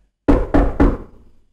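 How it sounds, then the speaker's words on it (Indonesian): Three sharp knocks on the glass pane of a car door, close and evenly spaced, each ringing briefly before fading into silence. "Di tengah-tengah film, tiba-tiba pintu kacanya diketuk."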